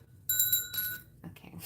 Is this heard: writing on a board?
no